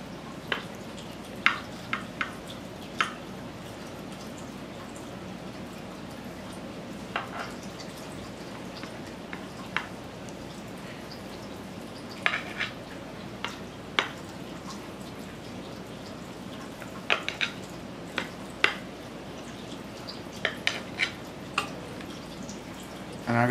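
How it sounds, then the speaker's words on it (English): Sugar syrup drizzled over a tray of homemade basbousa, soft scattered drips and patters landing irregularly on the cake across a quiet kitchen background. "I'll go ahead and put just a little bit more of the syrup on"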